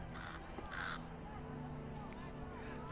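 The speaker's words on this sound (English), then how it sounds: "a crow has returned" A crow caws twice in the Lord of the Rings Online game, hoarse, moderately loud calls over a low ambient drone, with no voices.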